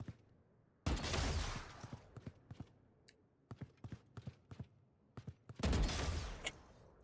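Gunfire from a video game comes in loud, sustained bursts at the start and near the end. Between them, sharp single shots and clicks pop out in quick succession, with no talking.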